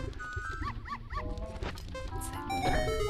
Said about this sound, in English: I just realized that the dog barking is the sound of the hover boots